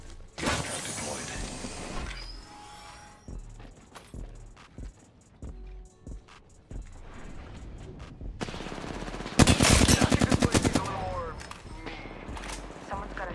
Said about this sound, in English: Someone's got a shot on me.